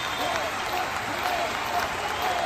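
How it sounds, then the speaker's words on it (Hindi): Crowd applause at a T20 cricket quarter-final between Nalanda and Jainagar welcomes a batsman, a sustained, fairly loud wash of clapping with a commentator's voice over it. "मैं दर्शकों से चाहूंगा कि जोरदार ताली से स्वागत करिए इस बल्लेबाज का"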